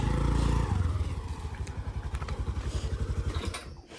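A vehicle engine climbing a hill road at Pattla Betta near Sakleshpur, a steady low rhythmic chugging throughout that fades out near the end.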